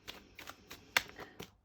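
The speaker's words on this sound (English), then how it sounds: "While I'm shuffling these cards, just like to give them a bit of an extra shuffle" Tarot cards are shuffled by hand in a quick run of soft, papery riffles and slaps, close and fairly quiet, with one sharper snap midway.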